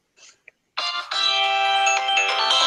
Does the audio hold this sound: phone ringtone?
yes